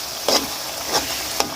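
Tempoyak, fermented durian, frying in a pan, with a steady soft sizzle and three brief stirring scrapes spaced about half a second apart, close and clear.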